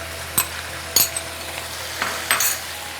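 Crushed garlic and ginger sautéing in a pan, a soft steady sizzle broken by a few sharp stirring scrapes and clinks, close and without talk.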